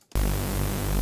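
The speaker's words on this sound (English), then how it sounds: "And then a little bit of white noise." A synthesizer white noise layer meant for a techno horn patch switches on abruptly after a brief quiet and holds as a loud, dense, steady hiss with a faint buzzy hum underneath, with no voices.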